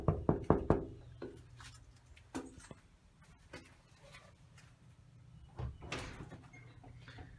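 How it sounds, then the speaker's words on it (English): A short burst of about four sharp knocks on a front door, close and loud, followed by quiet room sounds and a few faint thumps and shuffles. "Let's knock on the door"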